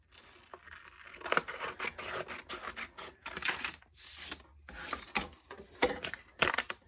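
Scissors cut out a paper vase shape, a close, quiet series of irregular snips and crisp paper rustles continuing throughout with short pauses, no voices.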